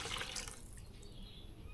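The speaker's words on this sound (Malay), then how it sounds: "mula-mula kita masukkan air kelapa 450 ml" Sour young coconut water being poured into a fishing bait mixture, a faint, brief trickle of liquid with soft dripping and splashing, close by and without talk.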